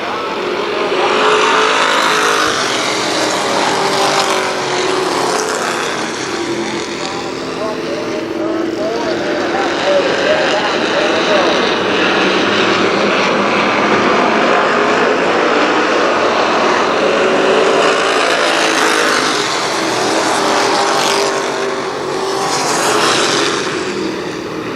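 Race cars at Kil Kare Speedway, with a loud, sustained roar of many engines swelling and fading as the pack passes, and an announcer talking over it throughout.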